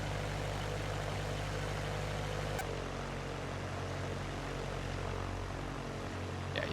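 Steady propeller-aircraft engine drone in X-Plane 11, a multi-engine plane flying airport patterns, loud and continuous throughout, with a brief sharp click near the middle and no voices.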